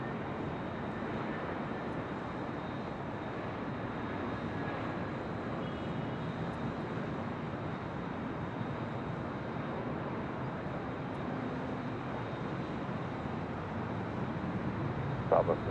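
An airliner departing LAX, heard from a high vantage point as a broad, steady engine roar that holds at an even level throughout without distinct peaks.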